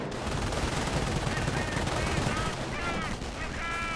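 An MG42 machine gun fires in Company of Heroes, a dense rattle of rapid shots amid battlefield noise, faint and mixed with other game effects and several short high tonal blips near the end.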